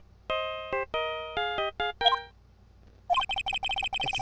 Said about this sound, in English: I know that song your phone played when it rings.